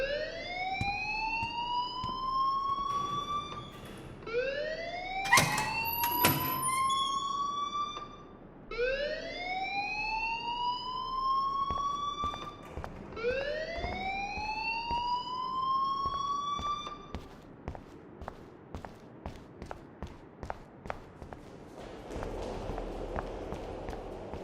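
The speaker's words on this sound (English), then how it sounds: "please turn off that alarm since that's your job" A rising-and-falling electronic alarm wails repeatedly inside the video game Life Is Strange, four long upward sweeps followed by a stream of short clicks and footsteps-like ticks, loud and close with no talking.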